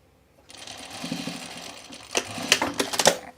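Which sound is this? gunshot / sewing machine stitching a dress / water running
sewing machine stitching a dress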